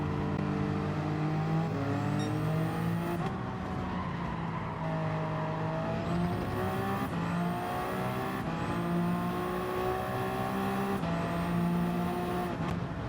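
A Gr.1 prototype race car on the Suzuka circuit in Gran Turismo 7 roars at high revs, its engine note rising and falling repeatedly through upshifts and downshifts, loud and continuous with occasional tire noise.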